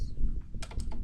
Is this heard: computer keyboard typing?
yes